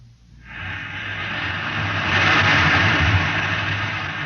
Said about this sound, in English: You can hear the roaring of the gases in the test chamber behind me